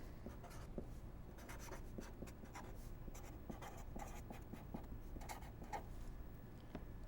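Pens scratching on paper as students in a Spanish language class write out their names, a steady soft scribbling texture with small taps and strokes, close and continuous with no talk over it.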